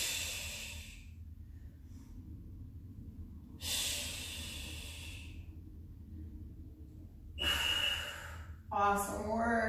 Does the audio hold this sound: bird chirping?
no